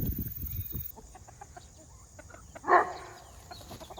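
Chickens cluck near a chicken pen beside cushaw squash plants, a few short close clucks with one louder squawk partway through over a quiet farmyard background.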